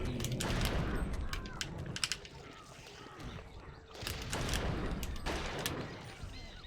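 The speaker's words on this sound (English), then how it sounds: "This gun is so loud." Loud gunshots in the video game Eternal Darkness: several sharp, booming blasts in bursts, separated by short gaps of rumbling game ambience.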